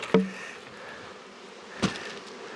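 Honeybees at an apiary hive, a faint insect hum behind two sharp close knocks as hive frames are handled.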